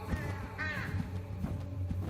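A crow caws in the horror game True Fear Forsaken Souls, giving a few harsh, close calls over a low ambient drone.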